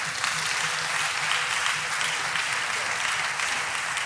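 A congregation at an evangelism school gathering in Abidjan applauds the Lord, with dense, steady clapping throughout and faint voices underneath.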